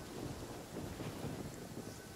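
A thunderstorm in a video game: a faint, continuous wash of rain and low rumbling thunder, even and unbroken, with no voices over it.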